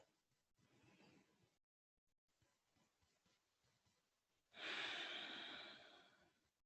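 During a quiet trauma-informed yoga session, soft breathing leads into one slow, deep, audible exhale that swells loudly and lasts about two seconds before fading.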